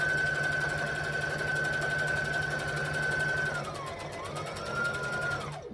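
A sewing machine stitching steadily through thick dress fabric, a fast continuous mechanical whir with rapid needle clatter that slows and winds down at the end, loud and close with no talk.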